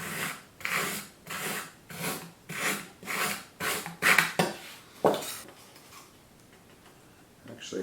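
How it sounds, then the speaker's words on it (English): Balsa glider wing parts are sanded to set the dihedral, producing a close, rhythmic run of rasping strokes, about one per half second, that slows and then fades to quiet. "And then we need to sand in the dihedral,"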